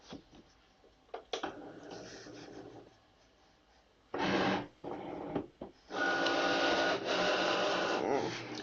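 A Cricut cutting machine runs in loud, buzzing mechanical bursts of varying length, with its motor whirring and carriage moving between short pauses, heard up close.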